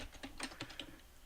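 Someone types an email address on a computer keyboard: a quick, faint run of about eight light key taps in uneven rhythm, close by with no voices.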